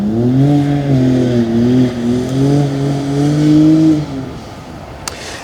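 A car revs hard in a car park at dusk, its engine rising and falling in strong, wavering harmonics for about four seconds before easing off; loud and fairly close, with no talk.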